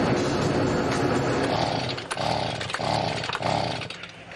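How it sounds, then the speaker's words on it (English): A leaf blower runs with a loud, continuous engine roar close by, its pitch surging in several repeated pulses as the throttle rises and falls, in a junkyard workshop. "Nick's convinced that this leaf blower could be just the job"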